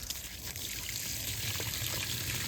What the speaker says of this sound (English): I'm gonna fill all these holes full of water